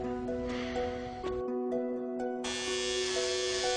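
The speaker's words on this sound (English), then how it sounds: "So just help me shave my hair." An electric shaver buzzes steadily while shaving hair off a head, its tone shifting as it presses against the scalp, close and continuous with no talk.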